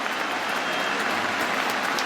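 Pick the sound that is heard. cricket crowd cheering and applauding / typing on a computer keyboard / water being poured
cricket crowd cheering and applauding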